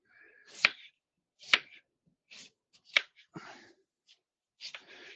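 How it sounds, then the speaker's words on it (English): A knife cuts a sweet potato into thin quarter-inch slices on a board, making sharp, close, distinct chops at an uneven pace, about seven of them, with quiet pauses between. "this sweet potato, I'm just going to cut it up in small little slices"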